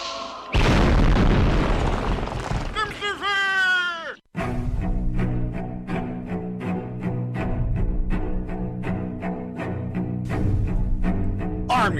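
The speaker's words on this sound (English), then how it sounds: "Brother Maynard, bring up the holy hand grenade" A holy hand grenade sound effect: a loud booming blast erupts and sustains, then gives way to sweeping descending tonal wails and a rhythmic, music-like bed.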